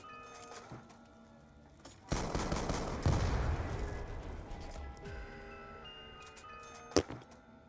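A video game gun fires a sustained burst of rapid shots, preceded and followed by scattered clicks and small in-game sounds, at moderate loudness.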